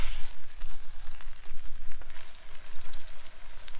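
Meat searing on an Adventure Kings camp stove, a steady close sizzle with scattered crackles and pops running unbroken from start to finish, with no voices.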